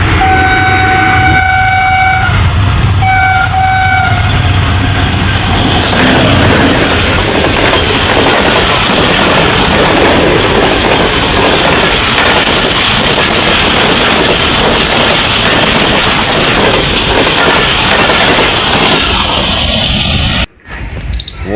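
A Pakistan Railways train, the Allama Iqbal Express, passes close and loud, its horn sounding in short blasts at the start before a long roar of wheels and rattling carriages that cuts off abruptly at the end.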